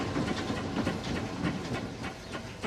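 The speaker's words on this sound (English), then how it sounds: "Just my wonderful steam engine thing." Fred Dibnah's steam engine, a bit dirty from going uncleaned for a month or two, runs with a loud, close rhythmic chuffing and hiss, a steady mechanical beat.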